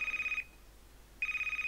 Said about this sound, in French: Quelqu'un qui appelle au téléphone.